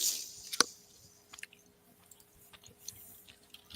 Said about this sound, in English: You can probably hear me chewing